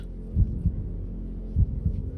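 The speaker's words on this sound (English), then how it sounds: "It's a heartbeat." Steady heartbeat thumps, deep and close, in two double-beat pairs over a low continuous hum, each lub-dub throb spaced about a second apart with no talking.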